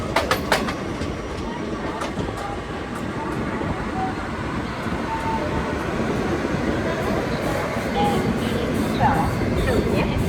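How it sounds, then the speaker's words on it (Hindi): Kolhapur-Nagpur Express pulling into Badnera Junction, a loud, steady rumble of wheels on rails with rhythmic clicks of the track joints running throughout, heard up close from aboard the train. "अब हमारी ट्रेन आ चुके हैं बाड़नेरा जंक्शन।"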